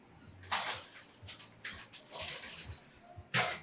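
Water sprayed in bursts onto a light-sensitive emulsion screen to wash it out for sportswear printing, a hissing spray repeated several times with short pauses, close and moderately loud.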